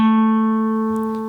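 A single clear guitar note on the D string rings out loud and close, sustaining steadily with a slight decay and no other sounds or voices.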